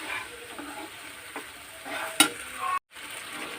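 Pasta stirred in a hot pan on a home stove, a steady sizzle and frying hiss with soft scraping strokes and one sharper clink near the end.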